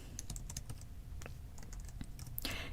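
Computer keyboard keys tapped in short, irregular clusters while playing a dungeon role-playing game, soft and close over a low background rumble, ending in a brighter burst of game sound.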